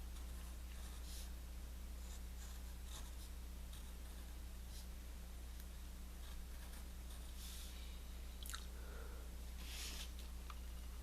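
A pen scratches and scrapes softly across paper in short strokes while a cartoon character's teeth are sketched, faint and close over a steady low electrical hum, with no talking.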